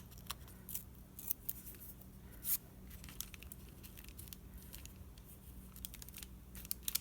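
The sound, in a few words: paper scraps being ripped by hand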